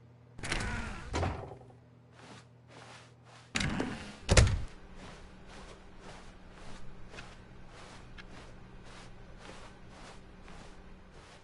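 An office door in The Stanley Parable 2 gives two heavy thunks early on, then a steady train of softer rhythmic clicks or footsteps continues over a low ambient hum, no talking.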